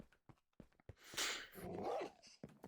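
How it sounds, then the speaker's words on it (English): Dogs in Minecraft let out short barks and a growling, panting burst amid scattered clicks and footsteps, fairly faint and close, with no talk. "Found a couple dogs and have started breeding them, so they live here for now."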